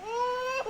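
A baby's cry used as a sound effect, a single short wailing tone that holds a steady rising pitch and then breaks off with a sobbing catch, close and clear with nothing else around it.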